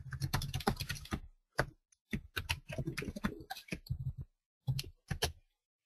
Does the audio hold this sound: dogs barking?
no